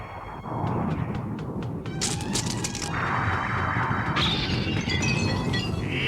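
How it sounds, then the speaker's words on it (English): Glass shatters in a cartoon scene, a bright crash ringing out over a steady loud mechanical whir and rumble, followed by lingering tinkling and clatter. "In fact, I choose to destroy the glass"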